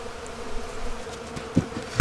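Honey bees swarm over a pollen substitute in a bee yard, a close continuous buzzing hum with a couple of brief louder bumps near the end.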